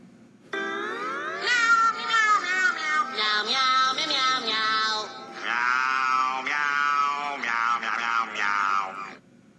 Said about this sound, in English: When Gary meows, sound waves, represented by the mini Gary,